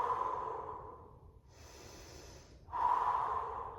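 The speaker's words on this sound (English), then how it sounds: "deep breath out" Deep exhalation during yoga practice, a long, close breath out through the nose that fades, then a brief hiss and a second strong breath rising at the end.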